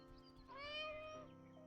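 A house cat gives a single drawn-out meow, rising then falling, fairly close and quiet in an indoor room with no talking over it.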